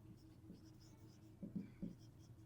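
A pen scratches on paper while a math solution is written out, with soft, faint strokes and a few firmer taps, heard quietly and close.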